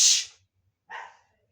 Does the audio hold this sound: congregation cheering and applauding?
no